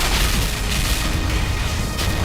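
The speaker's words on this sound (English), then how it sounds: "all the guns are firing on us" Sentry guns in the game Clear Skies 3 fire in a dense, continuous barrage, booming bursts rolling together loud and close with no pauses.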